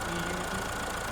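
Steady, continuous drone of a BS6 car engine idling at the exhaust, a constant low rumble with no break, loud and close, no voices.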